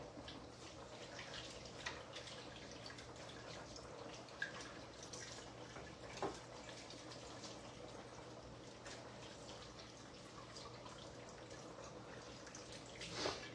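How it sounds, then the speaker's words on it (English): Tap water running steadily into a sink while hands are washed in a home kitchen, a faint, continuous wash of splashing with occasional drips and soft knocks throughout. "Let me wash my hands."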